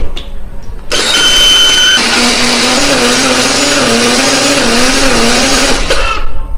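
A blender runs loud and steady, grinding a spice paste with oil after a brief quiet start, its motor whirring continuously until it cuts out near the end.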